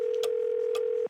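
A steady, continuous telephone dial tone plays in the Gabriel Knight game, a clean unbroken hum with faint clicks over it.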